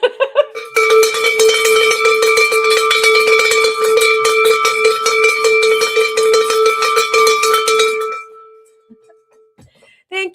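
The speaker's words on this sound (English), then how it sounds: "A cause to ring the bell." A handheld bell is rung continuously and rapidly for about seven seconds, loud and close with a bright, ringing metallic tone, then stops and trails off into a few faint knocks.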